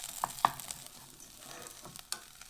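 Tomato paste stirred and broken up with the back of a utensil in a frying pan for cracked wheat pilaf: faint scraping with a couple of sharp taps, quiet and close, no voices.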